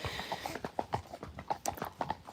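Horse hooves clip-clop at a steady walking rhythm through Cartmel village, moderately close and clear, with a faint murmur of background noise.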